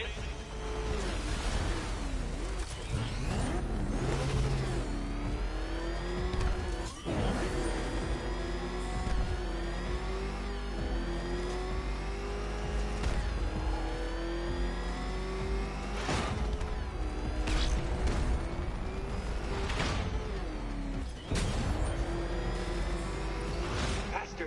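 The Batmobile in a Batman video game roars and revs continuously, its engine pitch climbing and dropping through gear shifts with occasional sharp impacts, while a voice talks over it.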